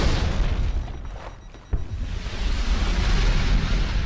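Grenade explosion in the Halo 2 video game, a deep rumbling boom with a sharp burst near the middle, then a sustained roaring wash of low noise that stays loud to the end.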